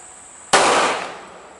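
A single sharp gunshot from a Smith & Wesson M&P 380 EZ pistol at an outdoor range, a loud close crack with a bright decaying tail, preceded by quiet background.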